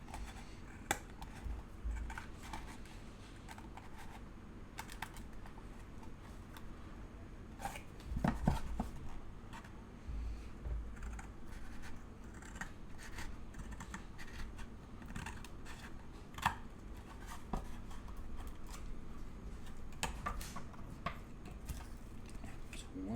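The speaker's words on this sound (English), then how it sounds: "let's actually cut out the corners so that we can use the entire thing of cardboard now" Scissors cut the corners out of a sheet of cardboard, giving faint, steady scraping and snipping at close range, with scattered louder crunches and no talking.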